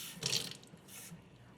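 A small splash of water is poured into a pan of sugar for caramelizing, giving a brief, soft pour at the start followed by faint trickling and quiet kitchen ambience.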